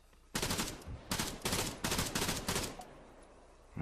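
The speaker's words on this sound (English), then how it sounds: "Right in front of me somewhere, I can hear the shots." Arma 3 gunfire in rapid bursts, several loud close volleys of automatic shots separated by short pauses, alone with no talk.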